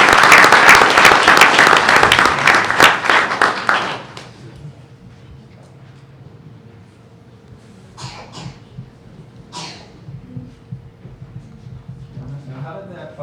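A room at a board meeting breaks into loud, dense applause for a student that lasts about four seconds and then stops abruptly, followed by a quiet room with a few faint voices and small knocks.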